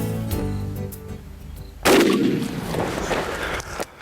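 A single loud gunshot cracks out partway through, fired at a turkey while hunting outdoors, with a sharp blast followed by a rolling, decaying report across the field.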